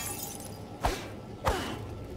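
Two sharp crashes of glass breaking in Horizon Forbidden West, spaced about half a second apart over a steady game ambience, each with a bright smash and a quick fading tail.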